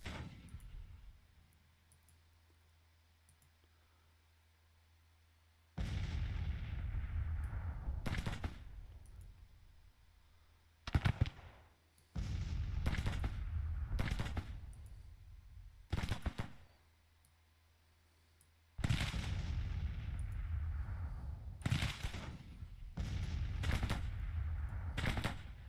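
Captured guns in the Civil War strategy game Grand Tactician, refighting Gettysburg, fire down a road in several loud, sharp volleys with crackling bursts, separated by quiet gaps and a low hum.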